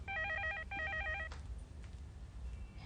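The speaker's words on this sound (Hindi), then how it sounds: "सतीश, तुम्हारी मम्मी का फोन है।" A telephone bell rings in two short repeated bursts in an indoor domestic scene, then stops, leaving quiet room background.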